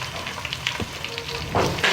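Chicken frying with onions in a pan for degi chicken korma gives a steady sizzle and crackle close by. Near the end it brightens into a louder hiss as the pan is stirred, and no one talks.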